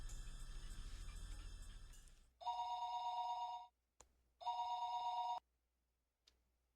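A landline telephone in a phone call rings back twice through the receiver, each ring a steady tone burst about a second long with a pause between, after a louder opening stretch.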